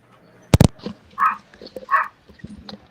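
A dog barking nearby: one sharp loud bark followed by a few softer, muffled woofs spaced about a second apart, with quiet background between them.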